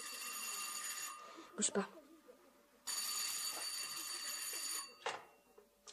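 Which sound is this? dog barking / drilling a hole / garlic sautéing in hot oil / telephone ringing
telephone ringing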